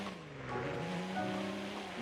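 Car tires squealing and sliding while drifting in the Midnight Racing: Tokyo video game, with a steady, droning engine under a sustained, fairly quiet skid.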